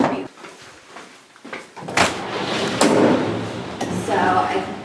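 A door to a cheese aging room on a small dairy farm swings shut with a sharp thud, followed by a roomy rustle and handling noise, close by with people talking around it.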